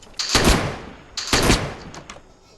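Gunfire in the Minecraft Project Walker zombie survival mod: two sharp, loud shots about a second apart, each trailing a short rumbling tail, with a faint extra crack afterward.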